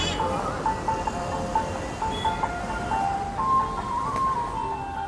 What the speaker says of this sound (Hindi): और ये है कुछ आगरा का ट्रैफिक यहाँ सिकंदरा का।